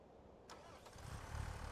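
A small tractor engine cranks and catches in Farming Simulator 25, starting up quietly and settling into a low, rumbling idle that builds slightly in strength.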